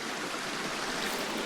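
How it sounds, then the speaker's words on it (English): Creek at Laurel Cove on Pine Mountain, a continuous broadband rush of flowing water, close and steady with no other sounds. "A nice creek here."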